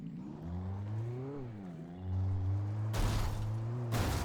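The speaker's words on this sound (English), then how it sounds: "I shouldn't probably be driving off-road with this vehicle" A vehicle in Alan Wake drives off-road, its engine drone climbing and dipping in pitch as it bumps over rough ground, with sudden loud bursts of noise near the end.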